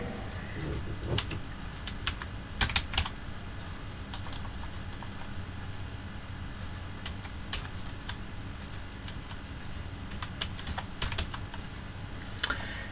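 Clicking keys on a computer keyboard come in scattered bursts as a heading is typed in MS Word, the taps sharp and close against a quiet room hiss.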